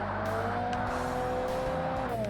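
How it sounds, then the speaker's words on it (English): A car engine in the 2005 Xbox game Forza Motorsport screams at high revs against the rev limiter, a loud, constant buzzing whine with faint tire squeal, unbroken and close throughout with no voices. "Oop, rev limiter, by the way."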